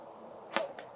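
Cold Steel Razor broadhead dart fired from a blowgun: a faint quick puff and thud, followed by a second, softer tap shortly after, in a quiet outdoor setting.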